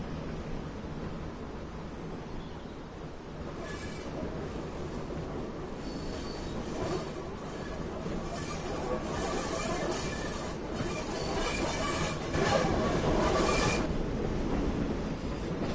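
Train running in Train Sim World on the Tees Valley Line, a locomotive and carriage with a DMU: a steady rolling rumble with wheel squeal and rail noise, growing slightly louder toward the end, with no talking.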